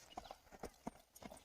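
A Marwari mare's hooves clip-clop in an irregular, fairly quick rhythm as she circles left during training, with soft distinct thuds nearby under low background noise.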